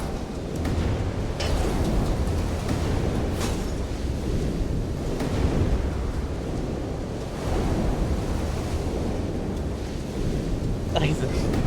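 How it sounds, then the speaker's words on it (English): Heavy, rumbling surf from the video game Light Fall roars continuously with gusty, wind-like noise and periodic swells, and a voice briefly comes through over it. "the waves get bigger the further off you go"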